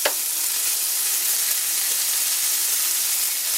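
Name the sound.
egg frying in a cast iron pan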